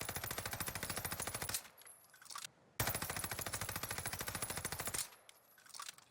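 Rapid automatic fire from a Cooper carbine fitted with tight grip in Warzone, two long sustained bursts of evenly spaced shots, loud and close, separated by a brief gap and ending in a short echoing tail.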